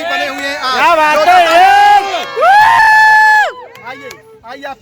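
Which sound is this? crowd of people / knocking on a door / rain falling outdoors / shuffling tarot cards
crowd of people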